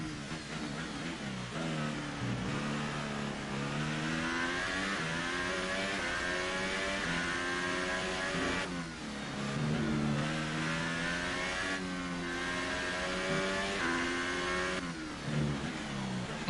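A Formula 1 car engine in F1 2018 screams through a lap, rising pitch through each gear with sharp upshifts every few seconds, loud and sustained without talk.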